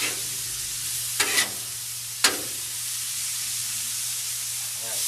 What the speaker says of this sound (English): now we're just going to let these pepperonis all start to cook down as well